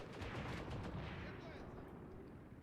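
Gunfire in the WWII tactics game Gravi Team Tactics: Mius Front, a battle for Fedorovka in March 1942, a dense, continuous rumble of shots and distant artillery-like blasts, loud at first and easing slightly over time.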